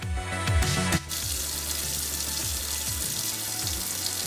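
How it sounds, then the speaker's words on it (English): Tap water runs over catfish in a sink strainer, a steady close hiss and splash that changes character partway as the flow hits the fish, with no talking. "I'm going to rinse my catfish, means wash the catfish off like I'm doing here in the sink"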